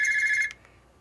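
A Google Sooner phone plays its "classic" ringtone, a rapid electronic bell-like trill that ends abruptly with a faint click, leaving near silence.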